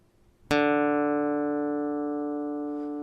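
A single guitar D string, the fourth string, is plucked once for tuning and rings alone as a clear sustained tone, slowly fading over a few seconds.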